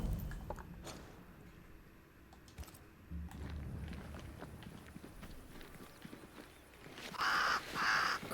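Crows caw in the game Banishers: Ghosts of New Eden, several harsh calls near the end after quieter clattering footsteps and ambient rustle.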